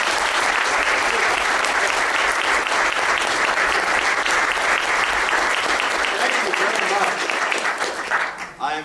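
Sustained audience applause welcoming Ken Starr at a law school event, a loud, steady wash of clapping from a full room that tapers off near the end.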